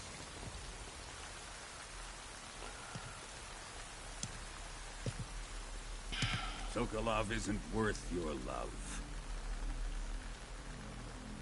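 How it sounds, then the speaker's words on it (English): Steady rain hisses on surfaces in the Metal Gear Solid Delta: Snake Eater video game, a constant dense patter with a few isolated drips, while someone speaks over it partway through. "It's raining."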